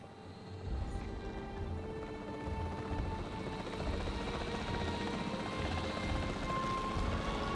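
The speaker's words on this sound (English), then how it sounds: "The priority needs to be tranquilizing it with the capture team chopper." A capture team helicopter in Jurassic World Evolution 3 drones steadily for the whole stretch, its rotor chop thrumming loud and continuous beneath a low engine hum, with no voices over it.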